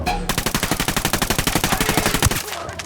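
Rapid automatic gunfire from the video game Ghost Recon Wildlands rattles in a steady, evenly spaced burst of about two and a half seconds, loud and close, before it cuts off.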